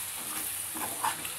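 A spoon stirring eggplant, green chili and ginger curry in a pan, with a soft steady sizzle and faint scraping strokes, close and alone.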